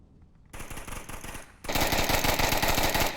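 Rapid automatic gunfire from the VR shooter game Onward rattles in two sustained bursts, the second louder and denser, with no talking over it.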